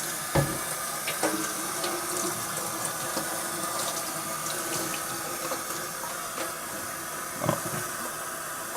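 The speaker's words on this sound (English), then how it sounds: "Just kind of give it a thorough, gentle rinse here" Tap water runs steadily over arcade cabinet parts and circuit boards in a gentle rinse, a continuous close hiss and splash with a few soft knocks and clunks as the parts are handled.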